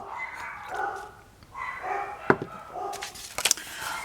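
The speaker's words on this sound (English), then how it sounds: "Here go the dogs, sorry." Dogs barking in a home, several sharp woofs in bursts with a few higher yips near the end, fairly close and loud, with no speech over them.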